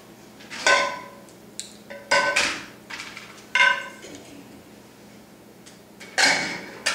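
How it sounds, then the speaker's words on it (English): Glass quart jars are set one by one into a pressure canner, giving several sharp clinks and knocks spaced irregularly with quiet pauses between them. "Like I said, this will hold 7 of the quart jars. So I'm going to get all 7 in there."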